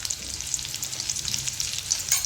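Finely chopped ginger and green chilies frying in hot oil in a pan, giving a bright, continuous crackling sizzle with scattered sharp pops, close and fairly soft.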